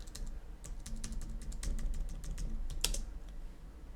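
Rapid clicks of fingers typing on a computer keyboard, a steady run of sharp keystrokes with one louder strike near the end, close and clear over a low background hum.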